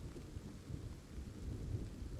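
Steady rain pours in a video game scene, a continuous dense hiss with a low rumbling undertone that holds at even volume throughout, with no voices.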